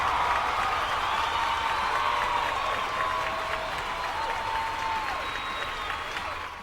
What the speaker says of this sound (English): We're going to give you a cheer.